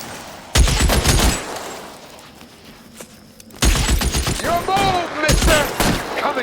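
Gunfire in an L.A. Noire shootout, Arson Desk case: bursts of rapid shots come in several loud clusters with quieter gaps between them, and voices shout over the fire.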